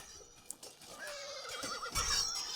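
Cavalry horses whinnying amid the din of a Shogun Total War battle, a faint distant neigh rising over a low rumbling battlefield wash, with no talk.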